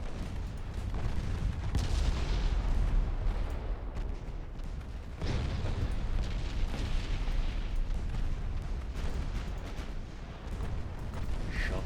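Naval artillery fire from warships in Ultimate Admiral Dreadnoughts, heavy booming salvos and rumbling blasts rolling continuously through the stretch, dense and loud with a couple of sharper onsets.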